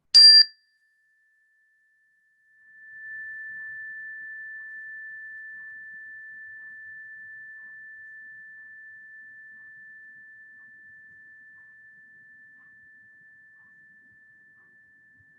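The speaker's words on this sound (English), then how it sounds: "when you can no longer hear the sound of the chime" A single meditation chime rings out clearly and sustains as one steady pure tone, slowly fading over many seconds in an otherwise silent room, preceded by a brief bright strike.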